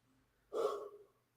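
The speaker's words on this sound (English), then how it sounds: "sorry for the yawn" A single short yawn from a live show host, a breathy, tired exhale lasting about half a second, close to the mic and then trailing off.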